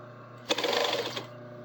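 A sewing machine runs a short burst of top stitching along a garment sleeve, a steady rapid whirring clatter lasting about a second, close and fairly loud, starting and stopping abruptly.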